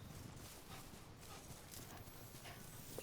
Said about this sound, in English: I want you to just listen to the footsteps